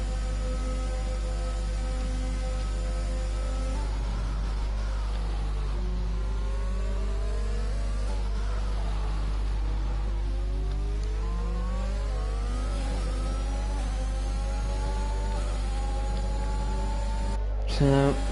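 F1 2021 race cars on track, one using DRS to overtake a McLaren, engines climbing and falling in pitch through gear changes as several cars run close together, steady and loud throughout.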